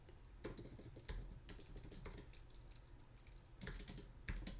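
Steady typing on a computer keyboard, a quiet, continuous patter of close keystrokes with a few louder key hits, with no voices.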